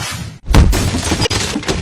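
A gate breaks with a loud, close crash and splintering burst after a brief silence, followed by a second sharp crack and scattered rattling debris.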